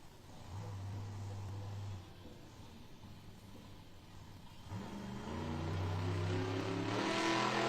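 The Jurassic Attack monster truck revs its engine in an indoor arena, with low throaty pulses at first, then a louder, rising roar and a building crowd wash.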